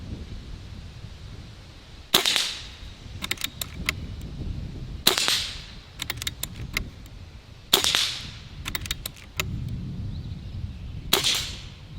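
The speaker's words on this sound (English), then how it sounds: "Let's move on to Johnny BB Gunner's cool swinging steel target." Pellet shots from a Barra 1100z Gen II budget airgun striking a swinging steel target, four sharp metallic impacts spaced a few seconds apart, each followed by a brief ringing and clatter of the swinging target.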